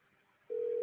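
A single steady telephone tone sounds alone for about half a second as a call is placed, clean and moderately loud after a quiet line hiss.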